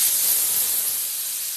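A Laurastar Lift steam iron releases a steady, loud hiss of steam, close and continuous, slowly easing off.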